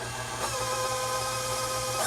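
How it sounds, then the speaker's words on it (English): Stand mixer motor driving a pasta sheeter attachment, a steady mechanical whirr with a low hum, close and continuous without talk. "I'm going to put my mixer on"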